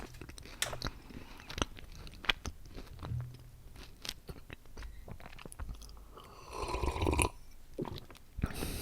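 Close-up chewing and crunching of Kinder chocolate eggs in a quiet ASMR tasting, with irregular bites and wet mastication sounds, a louder crunchy stretch near the end, and no talking.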